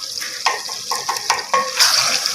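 Onions and tomatoes with added red chili and salt being fried and stirred in a pan for eggplant bharta; sizzling under repeated scraping stirs and light clinks of a spoon against the pan.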